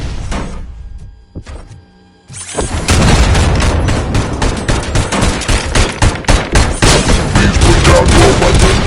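An ED-209 attack in the RoboCop Rogue City video game brings loud, sustained heavy gunfire: after a short, quieter lead-in, rapid bursts and booming shots pound on without letup.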